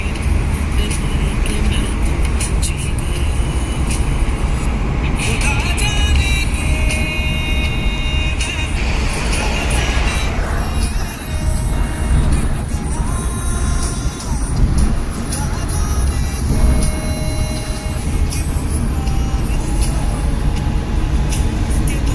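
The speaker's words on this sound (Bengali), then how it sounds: "তো এখন আমি হাইওয়ে দিয়ে যাচ্ছি।" A car drives along a highway with a steady, loud roar of engine and tyre noise. Other traffic rushes past now and then, and the sound holds continuous throughout.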